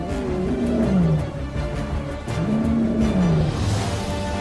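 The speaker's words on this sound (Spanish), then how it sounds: "un nuevo rugido rasga el aire" A male lion roars on the savanna, a deep, loud, drawn-out call rising and falling twice over a few seconds, close and dominant with no other voices.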